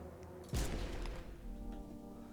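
A single gunshot in the video game No I'm Not A Human, a sudden booming crack that rings out briefly over a low, steady ambient background.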